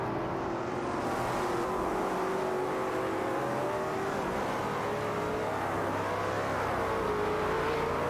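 Race car engines from a Bugatti Veyron and a Ferrari 812 Superfast in an AI racing video game whine loudly and continuously, rising and sliding in pitch as they rev and accelerate.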